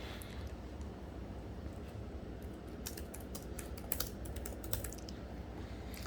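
Quick, irregular clicks of a computer keyboard being typed on, close and fairly soft, with a few sharper key strikes partway through and no talking.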